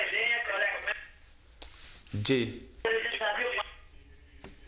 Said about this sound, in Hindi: मुझे लगता है इनकी टीवी की आवाज़ बहुत ज़्यादा है